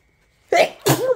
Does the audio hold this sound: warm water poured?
no